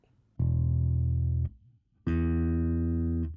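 A bass guitar plays two sustained low E notes one after the other, the open low E then the same pitch on the D string, brighter and richer in overtones, separated by a short quiet gap.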